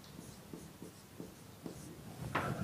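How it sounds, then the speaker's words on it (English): Chalk or pen scratching across a board during an acoustics lecture, several short rhythmic strokes at an even pace, faint and close, with a longer scraping stroke at the end. "let me write it here."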